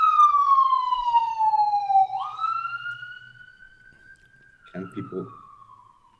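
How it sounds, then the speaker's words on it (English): An ambulance siren passes along a main street leading to a hospital: a loud wailing tone sweeps downward, then holds steadier as it fades. A voice speaks briefly near the end. "Sorry about the ambulance. I'm on the main street to the hospital"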